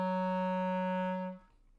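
A single clarinet holds a low A flat as one sustained, steady tone for about a second and a half, then cuts off cleanly, played alone in a lesson setting.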